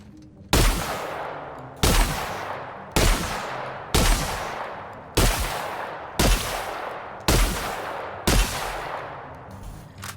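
Heavy shotgun blasts in a video game: eight loud, booming shots spaced about a second apart, each trailing off in a short echoing tail, with no talking.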